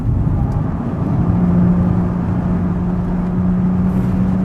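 A Porsche Boxster S with a 3.4-litre flat-six engine drones steadily on a lap, a loud, smooth, sustained engine note with a constant low hum and no voices.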